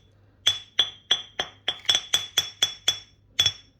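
Sharp metallic-stone clinks from a smooth tamrdiya stone mortar (kharal) brought from Bihar, ten distinct strikes in a fairly steady rhythm, close and clear with no voices.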